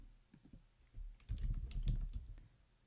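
Fingers type on a computer keyboard, a quiet run of quick, irregular key clicks that thickens into a busier burst of tapping before thinning out.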